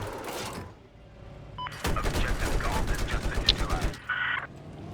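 Weapon fire in Battlefield 4 erupts into a rapid run of sharp shots after a quieter opening, then cuts off near the end.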